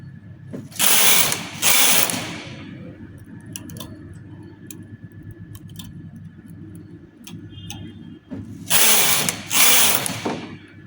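A knitting machine carriage is pushed across the bed to knit rows of a lace-pattern vest, giving loud rasping swishes in pairs at the start and end with quieter ticking and clicking between.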